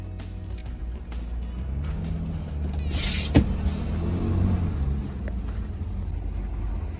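An old truck idles and rumbles as it rolls slowly into a Canadian Tire parking lot, engine hum steady, with a sharp clunk partway through and some low rattling.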